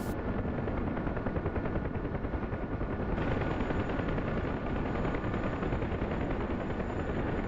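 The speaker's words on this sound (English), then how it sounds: "we got tracer fire coming out of the field" Anti-aircraft tracer fire rattles continuously in the DCS World combat flight game, a dense, unbroken stream of rapid shots under a steady helicopter drone, loud and sustained throughout.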